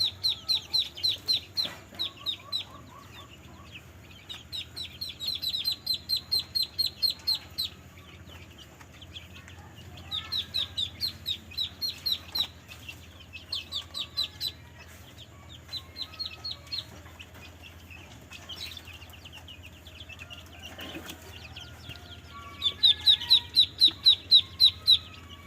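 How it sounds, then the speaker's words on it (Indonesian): Poultry calls ring out in repeated bursts of chirpy, clucking cries at a farm where muscovy ducks are being fed, near and fairly loud, with quiet gaps between the bursts and a low steady background hum. "Ini terus kasih makan entok."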